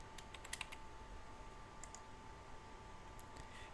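Quiet typing on a computer keyboard, a few faint clustered key clicks tapped out in short bursts over a steady background hum.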